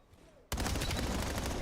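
A sudden burst of rapid automatic gunfire erupts after a brief quiet moment in a Call of Duty esports match, loud and sustained with dense repeated shots.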